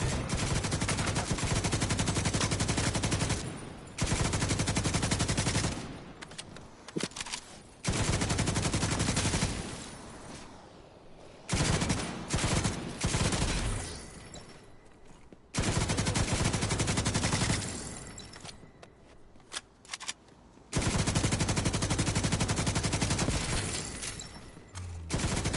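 Video game gunfire rattles in long, loud automatic bursts, rapid shots packed together and broken by short gaps, steady and close with no talking over it.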